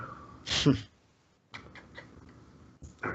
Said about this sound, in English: My cat is being annoying.